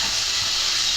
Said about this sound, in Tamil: காய்கறிலாம் எல்லாமே சேர்ந்து நல்லா வதங்கட்டும்.